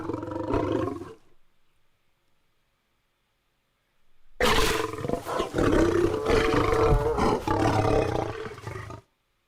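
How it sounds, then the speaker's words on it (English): A lioness roar bursts in loud and close after a short quiet gap, a sustained rough, rumbling bellow with a brief earlier burst, no talking over it. "you get a lioness roar for that"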